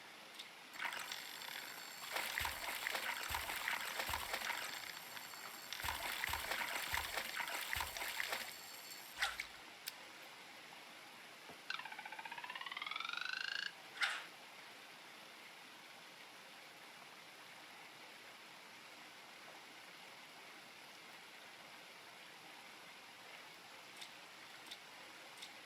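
River water streaming steadily in the video game Coral Island, a constant soft wash running under intermittent ticks and splashes, with a brief whistling tone partway through.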